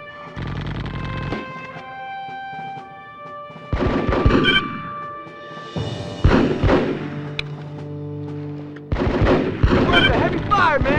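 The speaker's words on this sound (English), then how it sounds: "We're under heavy fire, man!" Bursts of gunfire in the military video game Full Spectrum Warrior, sharp rapid volleys of rifle and machine-gun shots in several clusters separated by brief pauses, mixed with game tones and some shouted voices.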